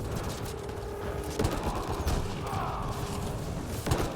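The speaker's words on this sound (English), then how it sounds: "They're shooting." Enemy gunfire in the Mass Effect Andromeda multiplayer mode, with several sharp shots and bursts standing out over a dense, busy game soundscape.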